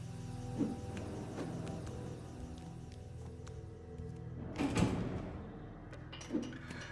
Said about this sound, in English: What I also need to do is to actually open the door like this.